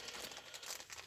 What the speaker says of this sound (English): opening up plastic bags